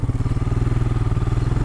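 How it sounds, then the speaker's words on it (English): A motorcycle engine runs on the road in the Colorado mountains near the Crestones, a loud, close, rapid, even chugging pulse thumping steadily throughout with no talking. "the bike's running well"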